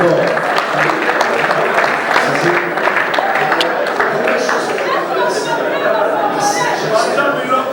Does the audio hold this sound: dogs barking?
no